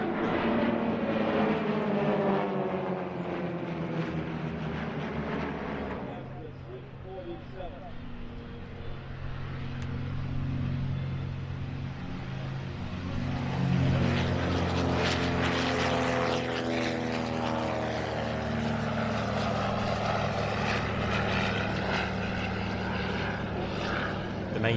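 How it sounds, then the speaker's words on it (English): A trio of Socata TB-30 Epsilon propeller trainers, ex-French Air Force, flying at an air show, their engine drone rising and falling as they pass, with a commentator talking over the sound throughout. "It's wonderful to see this trio of aircraft now flying in civilian hands"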